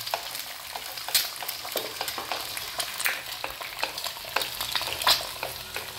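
Eggs frying in a pan, giving a steady crackling sizzle with irregular sharp pops and spits, close and fairly quiet, with no voices.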